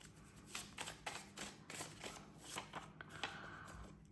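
Tarot cards shuffled in a series of crisp, papery riffles and soft slaps, repeated several times at close range with no talking.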